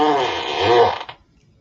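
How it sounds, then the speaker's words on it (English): An Alexa device plays a beery fart sound effect, one long loud buzzing rasp lasting about a second before cutting off into quiet. "that was a beer fart?"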